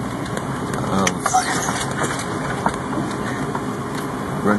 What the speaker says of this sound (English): this is such an interesting little Jeep ride